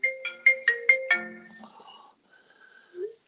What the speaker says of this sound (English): That was the Jaffa trying to phone us.